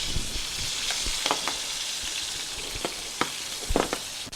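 Smashed jalapeño bacon burgers sizzle steadily in a hot pan, a dense continuous frying hiss with scattered sharp pops and crackles, close and alone with no talking.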